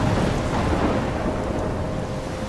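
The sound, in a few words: thunderstorm in the video game Life is Strange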